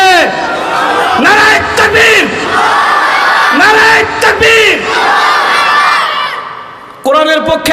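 A large crowd at a Bangladeshi religious gathering roars a battle cry in answer to a speaker's call of Naraye Takbir, loud surging shouts repeated several times near the microphone, with the speaker's voice between them.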